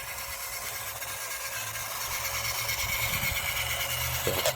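A vintage early-1980s Remco Top Gun two-speed RC buggy runs its small electric motor in low gear, a steady high-pitched whine close up that grows slightly louder toward the end, ending in a brief clatter.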